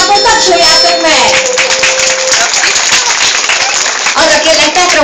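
An audience claps for children in costume, steady applause filling the room under a speaking voice and some children's chatter.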